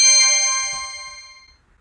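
A single bright chime of a contact-center agent desktop notification alert rings once, then decays smoothly to silence.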